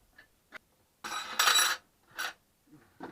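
Metal tire spoons clink and scrape while levering a motorcycle tire bead over the wheel rim by hand, a few short close metallic knocks followed by a longer scraping burst and a couple more taps.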